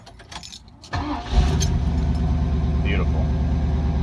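A Ford Mustang engine cranks and starts without the gas pedal touched, then settles into a steady, loud, rumbling idle close by. Someone says a word over the idle.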